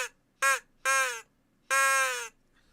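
A crow caller device gives four loud, harsh caws in an uneven sequence, the last one longest, with brief silences between them and no talking.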